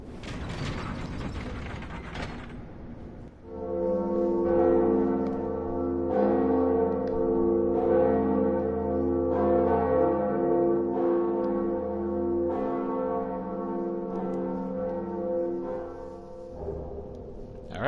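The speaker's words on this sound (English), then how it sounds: "I decided to ring the second Bell of Awakening first" Ringing of the Bell of Awakening in Dark Souls Remastered: a mechanical ratcheting clatter of gears and pulleys, then a deep resonant bell tolling repeatedly in slow, steady strokes that sustain and decay near the end.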